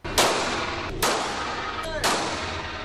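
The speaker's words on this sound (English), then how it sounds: "They're getting ready for a little target practice at the Range Pistol Club in Northwest Fresno." Three loud, sharp pistol shots fired about a second apart at an indoor pistol club range during target practice, each crack followed by a short echoing decay over a low hum.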